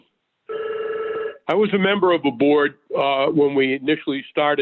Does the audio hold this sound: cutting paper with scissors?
no